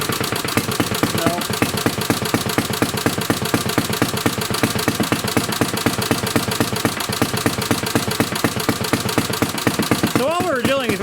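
A 1937 Briggs and Stratton Model A engine runs with a fast, even chuffing beat, loud and close, steady throughout, while a voice speaks briefly near the end.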